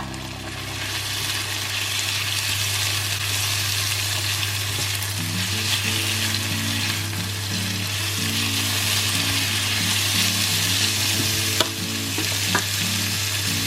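Green and red peppers and other vegetables for escabeche fry in a hot pan with a steady, loud sizzle that runs unbroken throughout, joined by light stirring scrapes and a low background hum.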